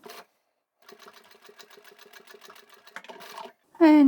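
A sewing machine stitches through the layers of a fabric crossbody tablet bag, a quiet run of rapid needle ticks after a short pause, with a voice speaking briefly at the end.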